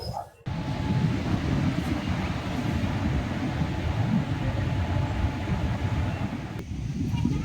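Inside a sleeper coach of the Silambu Express from Sengottai to Tambaram, a constant low rumble of the running train with a hiss of wind fills the cabin after a brief quieter opening.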